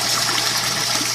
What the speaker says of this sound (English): right now we're getting just massive air blowing in there